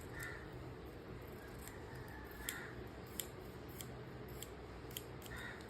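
Scissors snip through blouse fabric at the neckline, with a series of sharp, crisp clicks spaced irregularly over a quiet background hum. No one talks.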